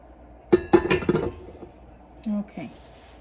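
Dishes and a bowl clink and clatter while egg yolk is cleaned out during pie baking, several sharp close knocks in quick succession, then quieter scraping and short tonal squeaks, with a voice talking nearby.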